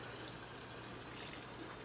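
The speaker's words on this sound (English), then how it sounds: "So you can see I'm running the water" Tap water running steadily into a kitchen sink, a continuous close hiss and splash that stays even from start to finish with no talking.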